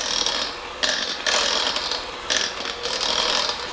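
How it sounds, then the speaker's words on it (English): A hand mixer churns through cooked potatoes in a ceramic crock pot, giving a close, loud mechanical whir that pulses in repeated surges with a gritty, ratcheting texture. "I'm just going to take my hand mixer and start mashing up the potatoes inside my"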